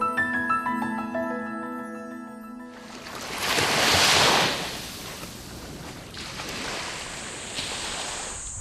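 Ocean waves wash onto a coastal shore, a broad rushing surge that swells loud and then settles into a steady roar, preceded by a few seconds of sustained tonal sound.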